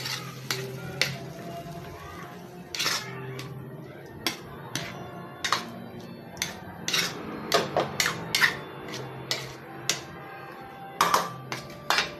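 Stir-fry vegetables tossed and mixed in a pan, with a utensil clanking and scraping against the metal in repeated sharp knocks of uneven rhythm over a low sizzle, close and fairly loud.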